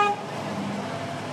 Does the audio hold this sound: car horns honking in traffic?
yes